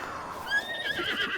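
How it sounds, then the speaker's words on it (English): A horse summoned in the video game The Legend of Zelda: Breath of the Wild gives one short, bright whinny that rises and wavers, close and clear over quiet game ambience. "summon a horse"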